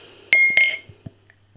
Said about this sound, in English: Let's get the beer out into a glass and see what we get.